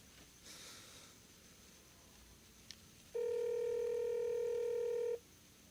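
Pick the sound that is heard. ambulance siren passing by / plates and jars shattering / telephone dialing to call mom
telephone dialing to call mom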